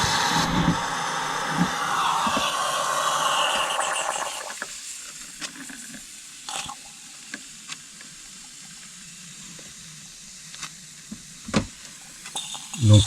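Coffee maker brewing inside a camper van: a steady hissing, gurgling sizzle dominates the first four seconds, then drops to a quiet background with scattered small clicks and knocks.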